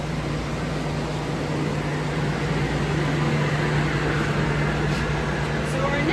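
Wool spinning machinery running at Green Mountain Spinnery in Putney, Vermont, spinning white yarn, a steady loud mechanical drone with a constant low hum filling the room, while a person talks over it.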